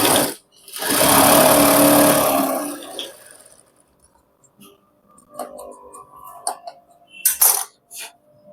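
Sewing machine stitching pants, a loud sustained motor run for about two seconds, then quieter scattered clicks and short mechanical bursts as the work is handled.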